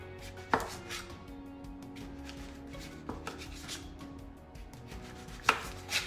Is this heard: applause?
no